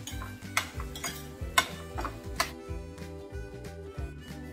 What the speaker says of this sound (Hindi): अच्छे से इसे मिक्स कर लेंगे हम।